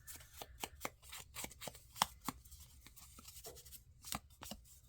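Paper is torn by hand for a journal, giving a run of short, crisp ripping bursts at an irregular rhythm, close and fairly quiet with no talk.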